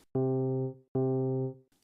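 A single piano note C struck twice, each ringing about half a second before being damped, clear and close with nothing else around it.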